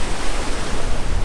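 Ocean surf on a fishing beach, a loud, dense roar of breaking waves and rushing water filling the moment, close and continuous with slight swells.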